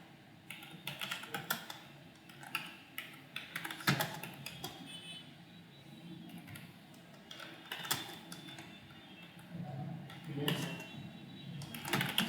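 Clicky, close computer-keyboard typing in quick irregular bursts with short pauses as a heading is entered, with no voices over it.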